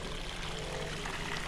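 Groundwater pours steadily into a gravel excavation hole, running like a creek with a continuous broadband rushing wash, fairly loud and unbroken, with no voices.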